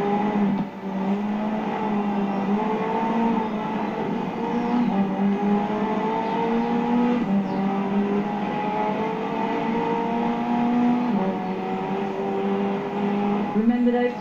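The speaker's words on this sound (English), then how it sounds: "The car's blistering performance is delivered by a twin-turbo V8, supplemented by a McLaren ECU electric motor and instant power assist system" A McLaren hybrid supercar in Forza Horizon 4, its twin-turbo V8 drone holding a steady, continuous pitch that shifts slightly up and down, with a voice talking over it.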